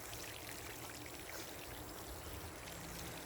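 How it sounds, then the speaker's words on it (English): Water pours steadily over a plant in a raised garden bed, a soft continuous splashing rush, faint and even throughout with no voices. "So now let's go water this plant"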